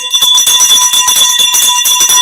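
A boxing ring bell rings loudly and repeatedly in rapid strikes, with sustained metallic tones carrying throughout.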